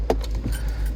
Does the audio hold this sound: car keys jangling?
yes